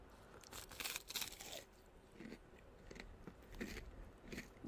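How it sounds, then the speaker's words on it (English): Someone bites into a crunchy meatball, giving several faint, sharp crunching bites and chewing in quick bursts. "He's eating the meatball!"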